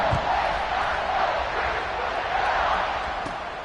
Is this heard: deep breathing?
no